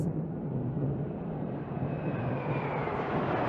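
MiG-29 Fulcrum jet fighters of the Indian Navy roar past at a display, a continuous broad rushing engine noise that holds steady and loud without pause.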